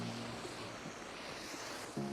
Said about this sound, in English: I can show you the creek where the water comes out into the creek.